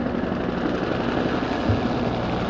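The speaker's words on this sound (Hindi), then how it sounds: "कोबरा अटैक हेलीकॉप्टर्स की फॉर्मेशन" Cobra attack helicopters of an army aviation combat squadron fly past in formation at a Pakistan Day parade air show, making a steady, dense, loud rotor and engine roar with no break.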